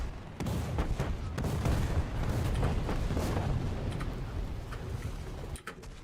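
Tank cannon fire in War Thunder: a heavy, sustained rumble of booming blasts and echoing explosions, loud and continuous for several seconds, with sharp cracks scattered throughout.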